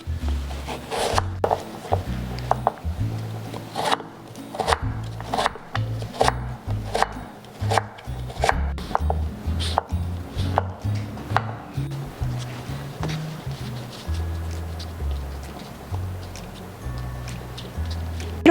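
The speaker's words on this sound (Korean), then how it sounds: "무는 굵게 채 썰어줄 거예요" A knife chops radish into thick julienne strips on a board, a steady run of close, sharp wooden taps over an 18-second stretch with no talking.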